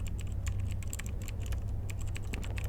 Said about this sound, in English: His fingers bang over the keyboard like they are possessed.